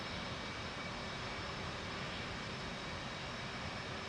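Jet aircraft engine spooling up during startup in the DCS flight simulator, a steady broadband roar that fills the whole stretch at constant loudness with no talk over it.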